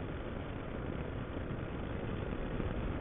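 A motorcycle engine runs steadily, a dense low rumble with broadband drone, continuous and fairly loud with no talk over it.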